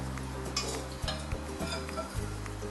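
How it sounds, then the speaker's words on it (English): A spoon stirs a batter of tapioca flour, plain flour and sweet potato flour in a bowl, soft scraping strokes with a few light clinks, over a low background sizzle of oil heating in a wok. "Make sure to stir the batter of tapioca flour, plain flour and sweet potato flour"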